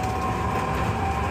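A Hiroshima tram rolls along old tramway rails, giving a steady, loud rumble with a sustained hum throughout and no speech.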